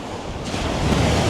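Gentle waves roll onto the beach at Ramsgate in a continuous soft wash that builds slightly over the clip, mixed with wind noise on the microphone and no speech.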